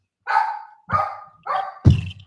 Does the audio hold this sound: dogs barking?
yes